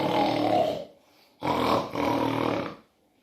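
A human voice imitates a jaguar's roar with two long, rough, throaty growls separated by a short pause. It is close and loud with no other sound around it.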